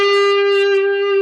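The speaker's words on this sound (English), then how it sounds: "slightly over a full step bend" Distorted electric guitar holding a bent note at the 10th fret of the G string, pushed slightly over a full step, from a riff; one loud, bright, sustained tone ringing steadily for over a second.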